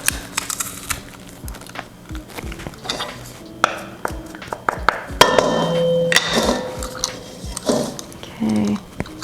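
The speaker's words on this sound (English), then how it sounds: "Gonna get 2 cloves of garlic and just mince it in there." Two garlic cloves minced for vegan gluten-free naan, with sharp knife taps and clinks on a board alongside clattering kitchenware, irregular and fairly close, with a few louder hits and no voice.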